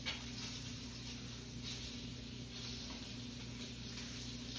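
Pork chops sizzle steadily in a hot pan while mac and cheese is being made, a dense continuous frying hiss with faint clinks and low hum throughout, no voices.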